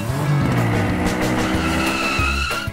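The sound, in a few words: RC monster truck toy driving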